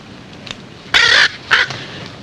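Penelope the bird squawking at an army camp, two loud harsh squawks in close succession after a faint chirp, nearby and clear with no talk.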